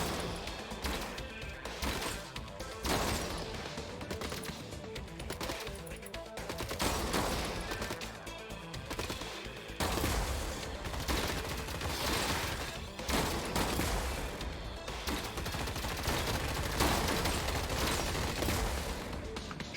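Rapid overlapping gunfire from the robot battle game Gladiabots, shotgun blasts mixed with machine-gun bursts, a dense continuous barrage of bangs and crashes running the whole time at steady loudness with no talk.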